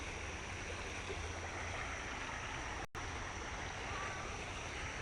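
Shallow Porter Creek runs in a steady, broad wash of flowing water, constant and fairly close, with no voices over it apart from a momentary dropout.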